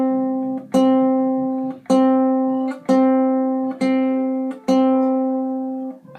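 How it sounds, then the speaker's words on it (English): A ukulele's C string plucked alone five times at an even, unhurried pace, each note ringing clearly with a sharp attack and decaying before the next. "The next string, right here, is the C string. It sounds like this."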